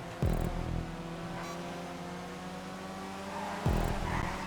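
A GT1 race car in a GTA racing game roars up, its engine note steady and loud, with brief screeching bursts near the start and again toward the end, likely tire squeal or gear shifts.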